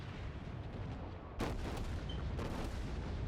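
Wyoming class battleship main guns firing in World of Warships: two deep booming blasts, the second a little after the first, each trailing off into a rumbling roar.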